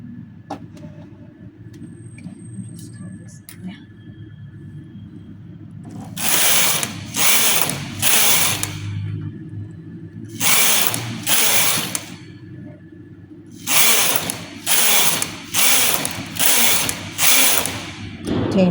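Knitting machine carriage sliding across the needle bed while knitting straight rows on a lace-pattern vest, giving repeated loud rasping mechanical strokes in runs of three to five passes separated by pauses.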